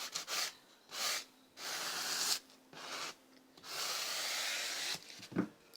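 Guitar frets on a Monoprice Classic 66 V2 being rubbed with a sanding sponge, a close, dry abrasive scrubbing in repeated back-and-forth strokes with short pauses between passes.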